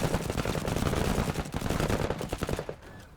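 Dense, continuous gunfire rattles through Menace, a tactical video game, as a squad keeps laying down suppressing fire; loud overlapping bursts run steadily, then cut off and trail into quiet near the end.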